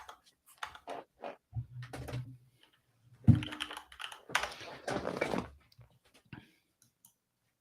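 An old computer keyboard typed on in short bursts of close, crisp key clicks, with a louder flurry in the middle, under a speaking voice.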